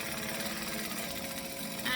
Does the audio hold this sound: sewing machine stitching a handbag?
yes